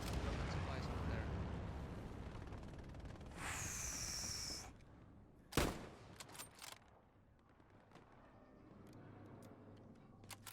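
Gunfire and artillery in the World War II shooter Hell Let Loose: rumbling blasts, a sustained hissing burst, then a sharp close crack and scattered distant shots tapering off.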